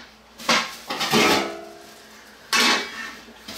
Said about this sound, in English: I bought this aluminum pot from my local big box store.